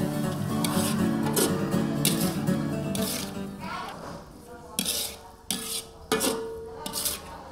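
Sliced gedong mango stirred into sautéed spice paste in a pan for gobyang mangga, giving scraping and clattering utensil-on-pan knocks with soft sizzling, busy at first and then broken into several sharper separate strokes.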